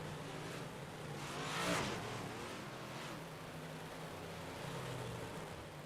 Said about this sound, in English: As Jeff Sharp will now pull back behind the field here as the pace car comes out of the pit area.